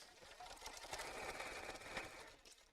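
A sewing machine stitches through thick fabric layers at a side seam while making a simple evening bag, running steadily and fairly quietly with no pause for about three seconds.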